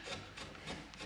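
A carving tool shaves and rasps along the edge of a wooden love spoon, bevelling it in short repeated scraping strokes, close and moderately loud.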